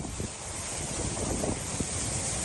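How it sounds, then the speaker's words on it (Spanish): Tons of incandescent lava advancing from an erupting volcano, crackling and fizzing as it meets cold seawater: a steady, dense broadband hiss and low rumble with faint crackles throughout, no voices. "el profundo crujido de las toneladas de lava incandescente al avanzar y la efervescencia que se produce al tocar"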